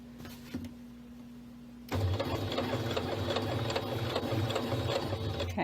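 A sewing machine stitches across a tote bag, starting after a near-silent pause with a steady, close, loud mechanical whir and rapid needle rhythm that runs to the end.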